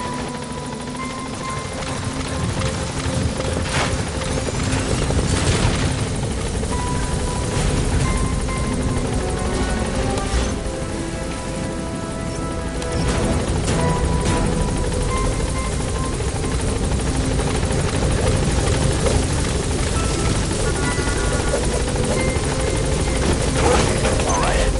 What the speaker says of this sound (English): Get on the chopper.